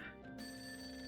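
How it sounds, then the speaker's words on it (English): A telephone in the game Persona 5 Royal gives a short, bright electronic ring with sustained tones, heard alone at moderate volume. "it's the phone"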